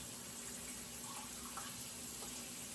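Tap water running into a measuring cup for bread dough, a steady soft hiss and trickle with faint splashy ripples, fairly quiet and continuous.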